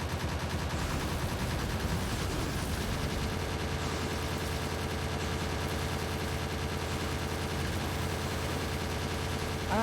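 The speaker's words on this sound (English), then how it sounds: "You're shooting at me! Stop shooting at me!" Dense, sustained gunfire from a video game rattles on without pause, with machine-gun bursts layered over a steady engine-like rumble, loud and close.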